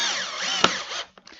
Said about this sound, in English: I'm going to put some screws in the back